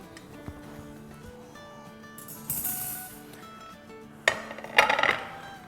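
A homemade dry fruit cake set down onto a serving plate, giving a few light clinks and a sharper ceramic knock near the end, close and moderately loud, with no talking.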